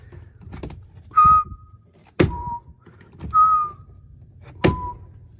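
A fuel tank door on a turbocharged Chevrolet Suburban shuts with two sharp, close thunks a couple of seconds apart, each preceded by a brief whistling tone, over a low background rumble.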